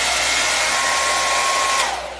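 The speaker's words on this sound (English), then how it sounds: "So there's the blow dryer." A blow dryer runs at full power, blowing on a nail wrap applied to a fingernail, a loud steady whooshing hum with a faint whine, tapering slightly at the end.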